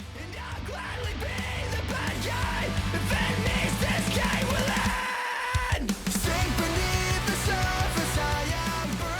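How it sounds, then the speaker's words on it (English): Shouted vocals in a dense punk rock song, a raw yelling voice over loud, continuous guitars and drums with a brief drop midway. "another song that ends up having shouting in it"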